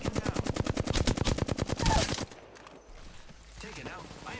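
Rapid automatic gunfire in a shooter video game, a fast steady stream of close shots for about two seconds, then quieter game ambience with a voice speaking.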